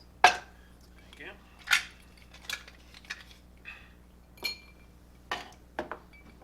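Ice cubes clink against a glass of Jim Beam bourbon in a series of sharp, bright taps spaced irregularly, close and fairly distinct over quiet room background.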